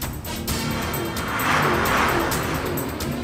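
A car speeds along during an action chase, its engine roaring steadily and swelling louder toward the middle with a hint of tire noise, no voices over it.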